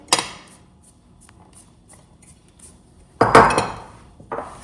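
A utensil clinks and scrapes against a bowl while eggs are mixed into flour and cocoa for chocolate cinnamon-roll dough, with a few soft taps and then two louder, brisk bursts of clattering.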